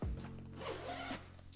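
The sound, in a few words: opening YKK water resistant zipper on bag back panel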